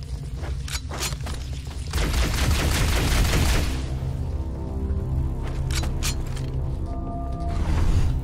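Shotgun blasts tear into carrier forms in Halo Anniversary, a cluster of loud booming shots with mechanical clatter in the middle, followed by quieter ambient rumble and a few scattered pops.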